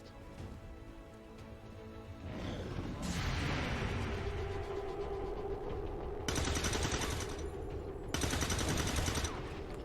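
Rapid automatic gunfire and heavy shots in the video game XCOM 2, dense bursts with sharp cracks and a sweeping whoosh, loud and continuous for nearly ten seconds with no voices over it.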